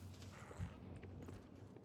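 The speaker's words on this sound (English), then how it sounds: "You can hear footsteps." Footsteps thud faintly and steadily in the video game Deadlock, muffled beneath a busy wash of game ambience with one heavier impact partway through.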